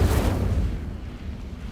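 Incendio fire spell cast in Hogwarts Legacy, a single loud whooshing burst of flame that starts sharply and then fades into a lower rumbling tail.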